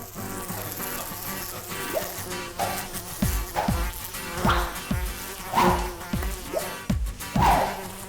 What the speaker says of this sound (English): Yes, this is a room full of flies